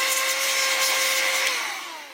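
An air blower hisses steadily while drying a part of a VFC Glock airsoft pistol, a close, continuous whooshing tone with a faint whine that fades toward the end.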